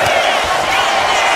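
An arena crowd in the WWE 2K25 wrestling game roars in a loud, continuous wash of cheering that swells without pause.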